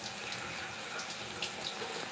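Warm water runs steadily over hair during a wash, a continuous broadband splashing hiss with small irregular drips and patters, close and unbroken.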